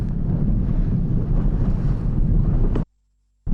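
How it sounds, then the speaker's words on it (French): Strong wind roars and buffets the microphone at a windsurfing regatta on open water, a loud continuous rush with low-end rumble that cuts off abruptly near the end before briefly resuming. "Au deuxième jour, le vent était présent, et même trop."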